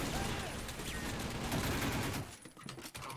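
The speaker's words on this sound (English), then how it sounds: "let's throw a grenade over there" Dense, loud game combat din from Timeshift, with a grenade thrown and a continuous roar of blasts and gunfire that drops off sharply after about two seconds into scattered fainter hits.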